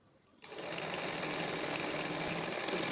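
An electric sewing machine starts up and runs steadily at a fast, even whir while sewing a half circle dress, continuing loudly without pause for several seconds.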